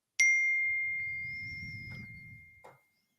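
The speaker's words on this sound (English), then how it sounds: "No, you hit the bell." A bell is struck once and gives a bright, clear ding that rings on and decays slowly. A faint rumble sits underneath and a small clink comes near the end.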